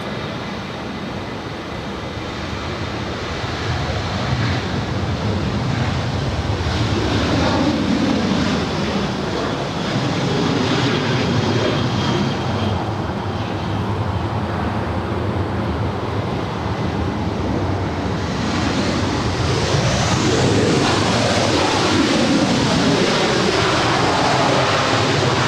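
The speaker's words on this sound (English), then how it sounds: "This next arrival is Delta 345 coming in from Atlanta. It's a 3-year-old Airbus A321." A three-year-old Delta Airbus A321 arriving at LAX, its engines a loud, sustained roar that builds and swells over nearly half a minute, heard without talking.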